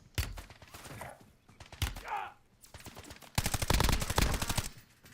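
Video game gunfire in bursts: a few single shots, then a long rapid automatic volley near the end, sharp and close, with quiet gaps between.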